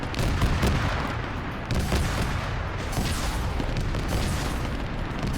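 Tank cannon fire in Arma 3 in a Warhammer 40k desert battle with Leman Russ tanks: loud, continuous rumbling booms and crackling gunfire that fill the whole stretch without pause.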